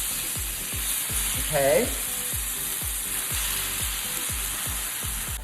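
Pre-soaked rice noodles sizzle in garlic oil in a hot pan, a steady close frying hiss with a rhythmic scraping stir throughout and a short brief voice near the middle.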